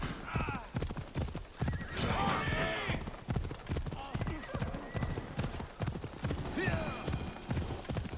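A horse ridden by Kassandra in Assassin's Creed Odyssey gives clear clip-clop hoofbeats and neighs and whinnies, with steady galloping rhythm close by and someone talking over it.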